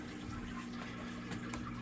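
Water draining through DIY aquarium water-change plumbing built into house pipes: a steady low gurgling rush, like water running in a drain, with a couple of faint splashy blips. No voices.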